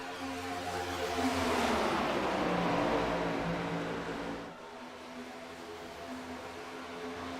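Race cars swooping into the turns at Atlanta in a racing video game, a steady engine drone with a rising and falling pitch as cars pass, fading slightly after a few seconds.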